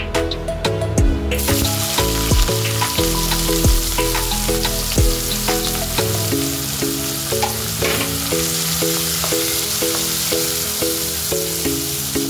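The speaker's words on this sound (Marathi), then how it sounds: "तेल तापलं की कांदा लालसर तळून घ्यायचा आहे।" Onion fries in hot oil for a Konkan prawn rice dish, giving a steady close sizzle, with a sharp burst at the start and some brief knocks and clatter over it.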